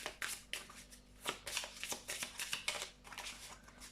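Tarot cards shuffled by hand in quick riffling bursts, crisp papery flutters and taps repeating irregularly, close and clear with no talking.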